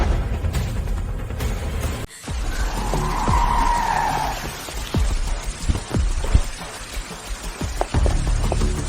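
A car drives on a wet, treacherous road and skids, tires hissing over rain-soaked pavement with a sustained squeal in the middle, followed by several short sharp thumps and scrapes, loud and close, with no talking.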